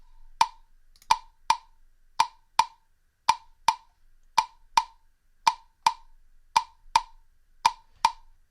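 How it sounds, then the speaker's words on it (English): A metronome ticks steadily and crisply, about two clicks per second, each sharp click clear against near silence. "I will start with my metronome"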